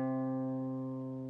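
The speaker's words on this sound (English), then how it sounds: "you're going to place your pointer finger here on the 3rd fret of your A string" One picked note on the A string at the 3rd fret of a guitar rings out clearly and steadily on its own, slowly fading over about a second.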